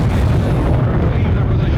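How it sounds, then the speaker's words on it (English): An atomic bomb blast on a military test battlefield, heard as a loud, sustained low rumbling roar that fills the whole stretch without a break. "The explosion's radioactive fallout is almost as dangerous as the blast itself."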